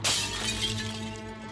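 A hammer strikes a mirror in the game Shadowgate (2014 edition), and the glass shatters in one sharp, close crash. A ringing, tinkling decay trails off over about a second and a half.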